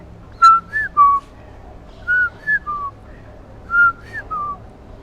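A person whistles an imitation of the koel bird's call, short rising and falling notes in groups of two or three, clear and close against a quiet background.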